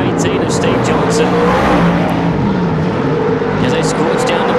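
Super sedan race cars roar down the back straight of an oval speedway in a continuous loud engine drone, with an announcer talking over the noise throughout.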